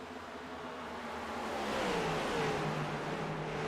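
Race cars accelerate hard out of turn four at Iowa Speedway, a steady engine roar building and rising in pitch, with a faint whine on top and no voices.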